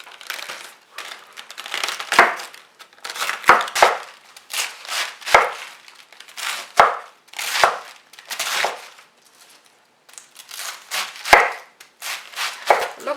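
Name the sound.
cutting cabbage with a knife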